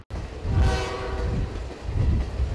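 An Adirondack Scenic Railroad train rumbles past close by in central New York, its horn sounding in a loud sustained blast over heavy low rolling rail noise and clatter.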